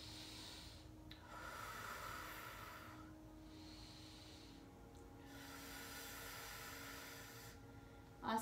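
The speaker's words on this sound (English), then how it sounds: "2 full breaths here" Slow, deep breaths during a seated yoga twist, two full inhale-exhale cycles of soft airy hissing, close and quiet against a faint background hum.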